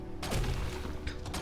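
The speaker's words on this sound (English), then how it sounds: "We can just use our sprout cannon to plant a load of trees, ready for when we need some more wood" A sprout cannon in the video game Lightyear Frontier fires in quick succession, a couple of dull thumping launches with whooshing tails over a steady background hum.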